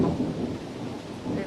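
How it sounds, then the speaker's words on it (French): A low rumble of thunder during a storm at a falconry center, with a soft wash of rain underneath, swelling at the start and again near the end. "Le tonnerre lui a fait peur."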